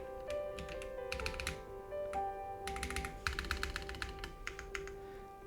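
Rapid keystrokes on a computer keyboard tapping out crossword answers, coming in quick uneven bursts with short pauses, close and fairly quiet, with no talk over them.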